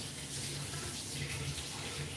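Water runs into a tall glass jar with a steady, close, full splashing hiss that barely changes over the short stretch.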